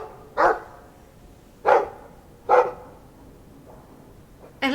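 A dog in the Dragon Age 2 video game barks in separate single yaps, three clear barks about a second apart, then a fainter one and a final bark cut off at the end.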